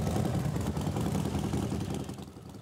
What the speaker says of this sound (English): A motorcycle procession began the service